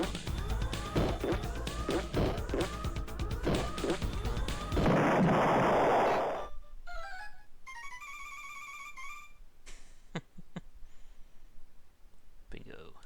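Retro Star Control 2 video game sound effects, starting with a rapid series of chirping, sweeping electronic blasts from the butt bomb weapon. A burst of noise and a run of beeping tones follow, with sparse clicks after them.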